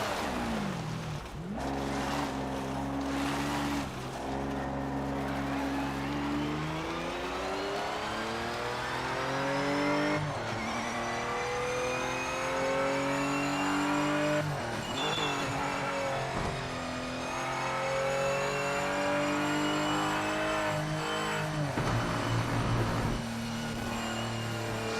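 Race car engines in the Project Motor Racing video game roar continuously, climbing in pitch through repeated gear changes and easing off between bursts, with brief tire squeal and loud, close engine tone throughout.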